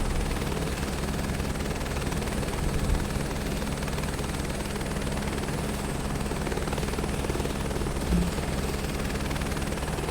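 Helicopter taking off in Microsoft Flight Simulator 2024, a steady, loud rotor thrum and engine whine holding constant throughout, with a couple of faint thumps and no talk.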